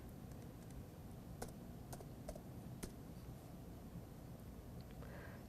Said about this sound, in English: If I could just type